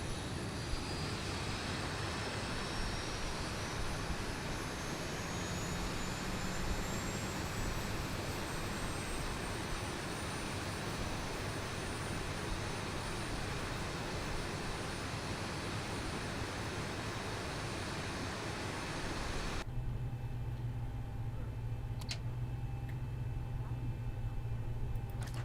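A Boeing 737-800 jet engine spools up in the X-Plane 11 flight simulator, giving a steady broadband roar with a slowly rising whine that holds for most of the stretch, then abruptly drops to a quieter low hum near the end.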